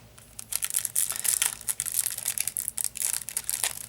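Foil trading card pack wrappers from a My Little Pony collectible card game box crinkle and tear near the microphone in rapid, uneven bursts of crisp crackling, with no talking.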